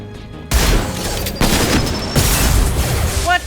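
Shotgun blasts from Mass Effect 2, a series of loud booming shots at roughly one-second intervals, each with a sharp broadband onset and a decaying tail, with other game sounds in the background.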